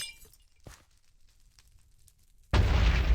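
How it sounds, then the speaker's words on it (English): During a Wither fight in the Minecraft GregTech New Horizons modpack, faint ambient crackles give way to a sudden, loud, booming explosion that bursts in and roars on with a shattering, rumbling tail. "I did do a pretty big explosion there"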